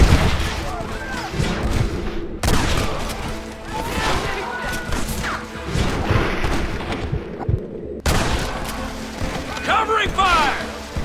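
Gunfire from a Western shootout in the game Red Dead Redemption, with dense, overlapping shots and crashes under shouted voices, continuing loudly throughout.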